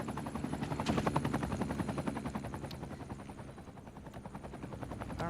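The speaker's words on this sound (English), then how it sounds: "Why is there always a helicopter flying around?" A medical helicopter circles overhead in the Cities: Skylines 2 city-builder, its steady rotor chop pulsing loudly and continuously with no one talking.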